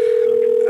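A steady telephone dial tone hums alone at close range while a call is being placed, unbroken for its short length.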